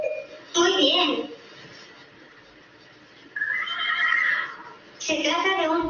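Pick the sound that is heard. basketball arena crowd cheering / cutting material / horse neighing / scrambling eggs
horse neighing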